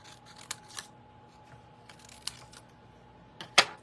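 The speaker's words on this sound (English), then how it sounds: "And then I'm going to cut out this other little leaf." Scissors cutting a small paper leaf shape: a few sparse, close snips and crisp clicks spaced irregularly, with one sharper snip near the end, over a quiet background.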